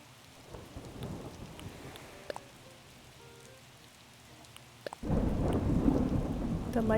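Thunderstorm in a room-decorating video game, with rumbling thunder and rain throughout and a sudden loud lightning crack near the end followed by heavy, close downpour.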